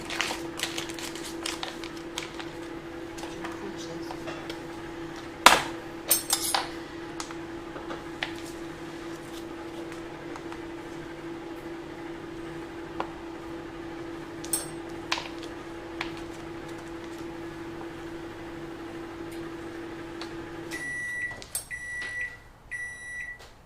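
A microwave oven heating butter hums steadily for about twenty seconds, with scattered clinks and handling noises from the kitchen, then gives a series of evenly spaced beeps as it finishes.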